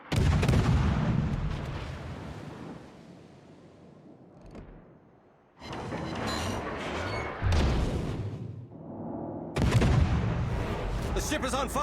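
Naval artillery fire in World of Warships, a run of heavy booming salvos with dense rumbling blasts and loud stretches broken by brief lulls, with a game voice talking over part of it.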